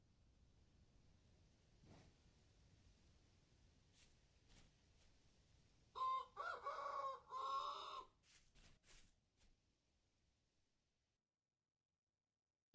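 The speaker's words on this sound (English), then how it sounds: "It's a chicken." Clucking from a chicken in a video game, a short run of loud, close, choppy squawks and clucks after several seconds of quiet ambience and faint clicks, then fading away.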